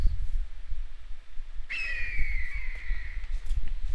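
A single golden eagle call in Jurassic Minecraft, a sharp descending screech that rises from low background rumble and trails off over about two seconds.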